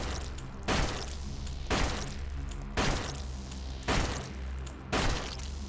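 Gunshots in a video game ring out as five heavy, booming shots at roughly one-second intervals, loud and close over a dense, continuous game soundscape.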